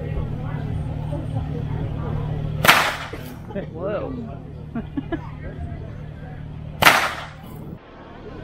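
Two sharp, loud cracks of 2.3 meter whips, several seconds apart, heard outdoors over background traffic rumble, with a person's brief exclamation and some murmured talk between them.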